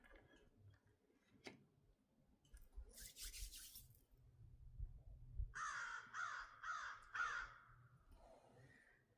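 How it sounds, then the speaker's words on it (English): A crow caws outdoors in the dark, a burst of four quick harsh calls a little way off, over quiet night ambience with faint ticking. "One of my crow friends says hello."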